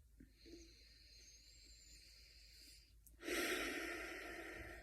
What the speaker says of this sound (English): Take 5 to 108 breaths here